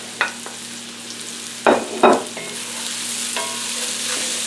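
Mushrooms added to a pan of frying onion and carrots, a low steady sizzle broken by a few sharp scraping stirs, two of them close together, with no talking.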